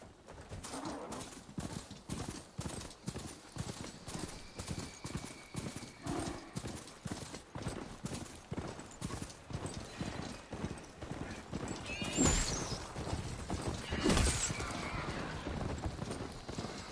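Rhythmic clip-clop footfalls of a ridden robotic machine mount in the game Horizon Forbidden West, steady and close throughout, with whinny-like mechanical calls around the midpoint and game ambience beneath.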